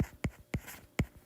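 Chalk or marker strokes on a board during a mechanics lecture on pendulum motion, four sharp taps and scrapes in an uneven rhythm, close and clear with no voices.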